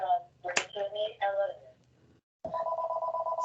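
A room telephone rings in a steady repeating electronic tone after a short pause, following a stretch where someone speaks.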